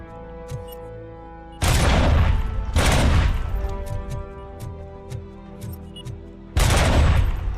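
Loud bursts of gunfire in the video game Robocop: Rogue City, several heavy blasts separated by quieter stretches with rapid ticking shots between, no voices.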